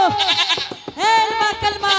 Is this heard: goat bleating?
yes